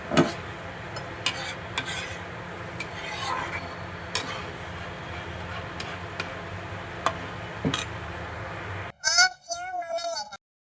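Chicken changezi with cream being stirred in a pan, a steady scraping and clinking of a spoon against metal with soft sizzling, close up, ending in a short burst of speech.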